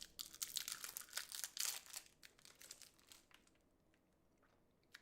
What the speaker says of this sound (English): you might hear the odd crunch here and there